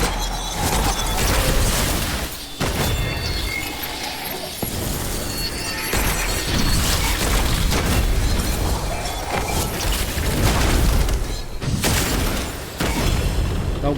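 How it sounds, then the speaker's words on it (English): Enemies fire on the player in the dark fantasy shooter Witchfire, a dense loud barrage of booming shots, bursts and impacts that runs continuously with a few brief lulls. "Oh boy, I'm being shot at a lot."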